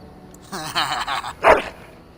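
Dog in Dragon Age: Origins giving a short run of barks and yips followed by one louder whimpering bark, fairly close and clear.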